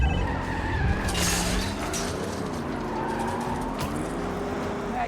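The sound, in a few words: car skidding during a chase, from the video game Spider-Man 2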